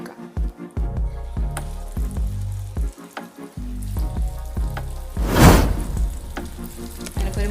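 Three pieces of vattu pathiri, a Kerala snack, drop into hot oil and set off a loud, bubbling sizzle that swells into a bright burst midway, with the clatter of handling around it and no talking.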